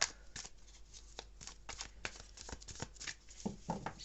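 A deck of oracle cards shuffled by hand up close, a quiet run of rapid riffling flutters and soft slaps repeating with no talk over them.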